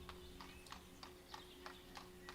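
Horse wagons in the 18th-century city-builder game Ostriv: a quiet, steady run of hoof clip-clops, about two beats per second, over a constant low hum, with no talk.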